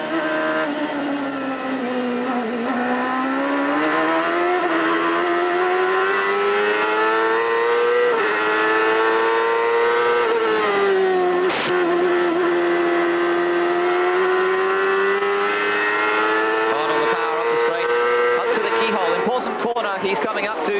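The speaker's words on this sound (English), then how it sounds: "you can hear Pruitt just stabbing a little bit at the throttle as he tries to feel the grip" A CART race car at the 1998 Mid-Ohio round, driven by Pruitt, holds a loud, sustained engine note that rises and dips as the driver stabs at the throttle, with commentary talk over it.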